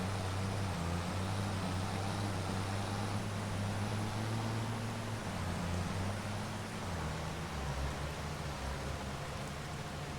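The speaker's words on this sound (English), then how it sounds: "But this is the tractor to be dragging trees with." A farm tractor engine in Farming Simulator 25, used for dragging trees, runs as a steady low rumble with a shifting drone, continuous and close for the whole stretch.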